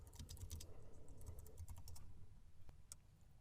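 Quick bursts of keystrokes on a computer keyboard as a network switch command is entered in a GNS3 lab, close and clear, with a brief pause and a final single key press.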